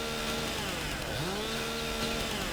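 Chainsaw felling a tree in Farming Simulator 22, a steady continuous engine drone with gliding pitch sweeps as the saw bites and revs, loud and unbroken throughout.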